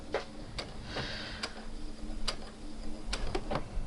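Domestic sewing machine backstitching cross-grain fabric along a sleeve, heard as a sparse series of sharp mechanical ticks and clicks at irregular intervals over a quiet background hum, close and fairly soft.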